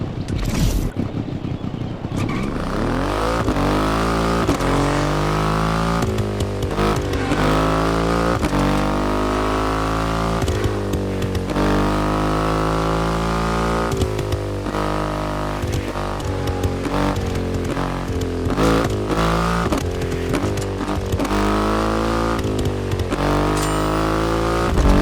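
Triumph motorcycle with a 2.5-liter engine in The Crew Motorfest, loud close engine rising through repeated revving gear pulls with brief drops between shifts, sustained throughout.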